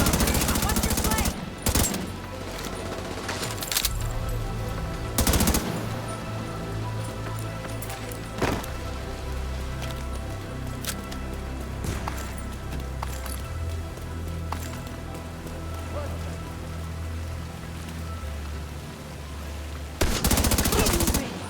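Dense game gunfire from The Division 2 crackles through a firefight, with sharp loud bursts near the start and end and steady rattling shots underneath, mixed with rumbling effects and shouting voices.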